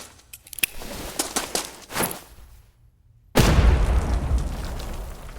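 A grenade goes off in the video game City of Division: light clatter gives way to a sudden loud blast, followed by a sustained heavy rumble and debris noise, with no voices.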